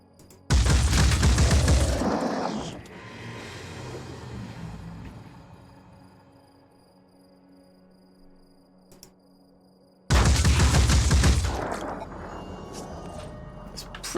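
Two heavy turret shots in Phoenix Point, each a loud booming blast followed by a rumbling decay, spaced about ten seconds apart with quiet ambience in between.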